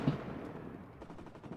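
Distant explosions and gunfire from the WARNO real-time strategy wargame, a muffled low thump at the start, then a steady rumbling wash with faint repeated crackles, played quietly with no talk.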